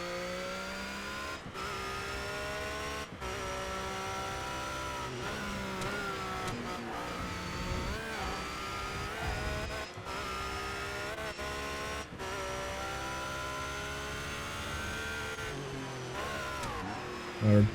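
A TVR race car in the ToCA Race Driver 3 video game, British GT class, holds a steady high engine drone that rises and falls through gear changes, loud and continuous throughout.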